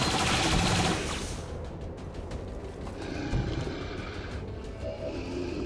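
A turret machine gun fires in XCOM 2 with a loud rapid burst at the start, followed by quieter scattered game sounds and rumbling effects, with no speech.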